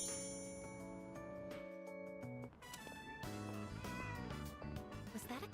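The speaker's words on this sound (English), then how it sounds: "Was that a cat's meow?" Cat meowing in the video game Persona 3 Reload, a short mew rising over steady game background music with chiming tones, fairly faint in the mix.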